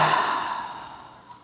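A single long, breathy exhale during yin yoga practice, close and soft, fading gradually over about a second and a half with no talking.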